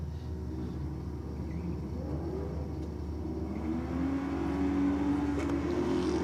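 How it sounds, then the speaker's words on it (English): A Ford Falcon drag car spinning its rear tyres on launch, with a heavy continuous engine roar and low rumble that swells slightly louder toward the end, heard steadily without any voices. "A bit of wheel spin, the sound of it, and you can just see the shock go through the body of the Falcon on the launch"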